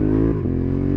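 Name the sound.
Honda CB750 Hornet motorcycle exhaust crackling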